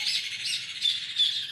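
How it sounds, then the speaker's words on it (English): Birds squawk in a quick series of harsh, high calls, four or so bursts in close succession, fairly near and loud with nothing else beneath them. "exactly, birds"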